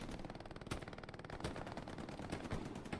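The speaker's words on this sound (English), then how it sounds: "McCracken is still cracking away there with the MG" Rapid, continuous machine-gun fire from an MG in a multiplayer shooter match, rattling steadily throughout with a few sharper individual shots cutting through.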